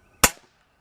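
A single sharp shot from a break barrel air gun snaps out loud and close, with a brief tail fading quickly into quiet.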